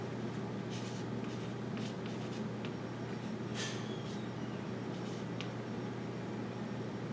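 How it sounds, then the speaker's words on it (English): Hand writing an equation on paper: faint, quiet scratching strokes in short irregular bursts, alone with no voices. "I'll write down our original equation"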